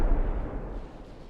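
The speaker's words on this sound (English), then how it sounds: "And the Hessens landing hits on that battleship." Naval shells striking a battleship in the video game Ultimate Admiral: Dreadnoughts, heard as a heavy, booming impact that rumbles low and gradually fades over about a second.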